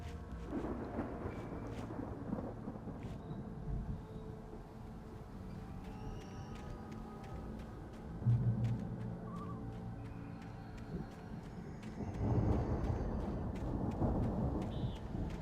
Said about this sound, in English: The storm raged on